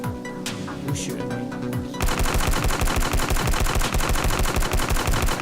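Rapid automatic gunfire in the video game Danganronpa: Trigger Happy Havoc, a dense, loud, continuous stream of shots that starts abruptly after a quieter stretch of game sounds and faint talk.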